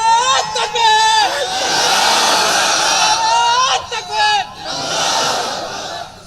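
At a religious sermon, a large crowd shouts slogans in unison with rhythmic, full-throated bursts and roars that rise and fall, and a lead voice calls out between the chants.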